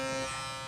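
A Burst electric toothbrush switched on, giving a steady, close, even buzz that holds for under a second with no voices.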